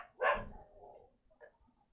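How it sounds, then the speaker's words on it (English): A neighbours' dog gives a single loud, close bark followed by a couple of softer yips, with no talking over it. "They've got a dog and the dog's not out with them"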